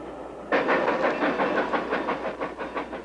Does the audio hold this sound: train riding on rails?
yes